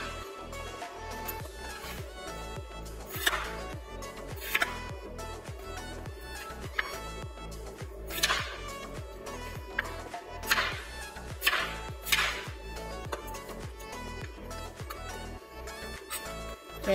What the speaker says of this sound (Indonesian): Kita potong kentangnya berbentuk dadu ya, berbentuk kotak-kotak seperti ini kurang lebih ya